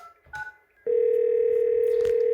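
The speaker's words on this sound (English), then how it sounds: "So it's indicating here that there's an incoming call coming in." A Yealink T33G VOIP phone sounds an incoming-call tone: after a few soft beeps and a brief pause, a loud steady electronic tone holds close and unbroken to the end.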